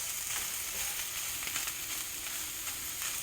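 Great Value Vermont maple sausage sizzles in a pan with steady, close crackling and hissing grease and faint pops, continuous with no talk.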